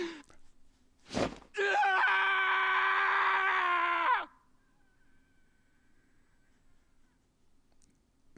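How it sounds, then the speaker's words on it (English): A loud, drawn-out harmonic scream lasting about two and a half seconds rings out in the video game Octopath Traveler 0, preceded by a brief sharp burst and followed by quiet background. "That was a pretty good scream."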